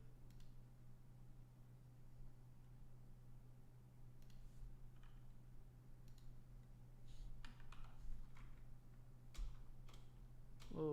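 Scattered keystrokes on a computer keyboard, a few sharp clicks at a time in short bursts and a rapid cluster near the end, fairly quiet over a steady low hum.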